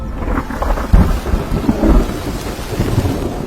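Heavy thunderstorm with steady rain, rumbling thunder rolling under a constant loud hiss of rainfall, with no voices.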